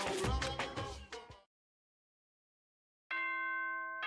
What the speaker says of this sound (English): Ding dong, bing bong.